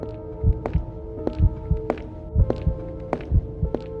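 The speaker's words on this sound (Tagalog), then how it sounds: "Namingi si Mateo sa sariling tibok ng puso." A steady heartbeat sound effect under horror narration, a double thump repeating about once a second over a low droning hum, with no talk.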